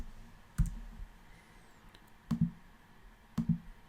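Soft mouse clicks in gradebook software, three quiet single or double clicks spaced about a second apart over low room hiss.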